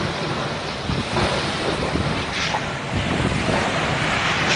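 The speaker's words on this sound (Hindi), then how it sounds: "गेटवे ऑफ इंडिया समुद्र में पूरी तरह से उथल पुथल, लगभग 1-1 मीटर ऊंची लहरें उठ रही हैं इस समय समुद्र में" Rough sea during Cyclone Nisarga at the Gateway of India in Mumbai, with waves about a metre high churning and surging steadily amid gusting wind noise, loud and continuous without any voices.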